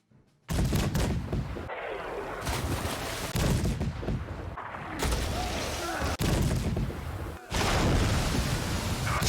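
Naval cannon broadsides in the Napoleonic strategy game Victory & Glory, a sea battle with several loud booming volleys in sequence, each cutting sharply in, separated by brief gaps, over a dense rumbling roar.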